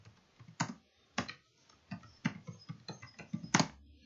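Computer keyboard keys pressed in a quick irregular series of sharp clicks, including a Ctrl R shortcut while entering a journal transaction in accounting software, close and fairly quiet with no talking.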